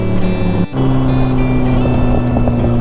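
Big bike motorcycle riding fast on a road in the Philippines, a loud steady engine drone with wind rush, briefly dipping for a moment before resuming at full power.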